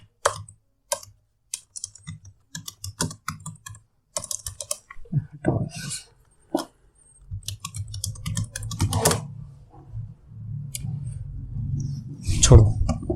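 Someone types on a computer keyboard in irregular bursts of crisp key clicks separated by pauses, with someone speaking over part of it.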